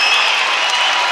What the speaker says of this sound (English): the crowd, as you can hear in the background, are just erupting here